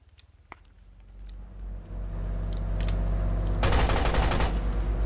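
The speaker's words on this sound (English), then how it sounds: "This BTR using his machine gun trying to get Pillager over here." A BTR's machine gun fires a rapid burst in a video game, loud bangs over a steady rumbling engine drone, with scattered gunfire earlier.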